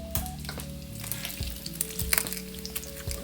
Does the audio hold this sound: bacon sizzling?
yes